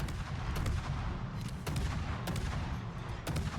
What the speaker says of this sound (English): We have not stopped firing.